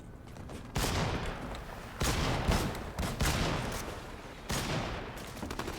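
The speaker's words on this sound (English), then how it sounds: "I don't know who's shooting who right now." Gunfire from a show playing on a screen comes in several separate bursts of rapid shots at moderate, slightly distant volume, with no talking over them.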